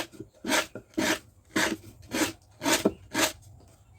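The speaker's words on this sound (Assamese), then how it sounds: "এতিয়া চিজখন ঘঁহি পেলাই খাজটো অকণমান মিহি কৰি ল'ম" A bamboo groove is rubbed smooth while making a bamboo pepa horn, about seven rhythmic rasping strokes at an even pace, close and clear with short pauses between them.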